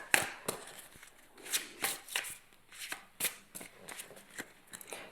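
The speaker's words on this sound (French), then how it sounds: "je vais prendre quelques cartes de l'oracle des fées de la nuit" Oracle cards from a night-fairy deck shuffled by hand: a string of soft, riffling card flutters and slaps in uneven bursts, close and quiet, with no one speaking.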